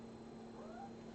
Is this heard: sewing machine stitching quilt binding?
no